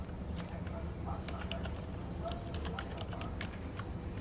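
Fast, light key clicks come from a computer keyboard as text is typed into an MS Word document. The taps are faint and rapid over a steady low background hum.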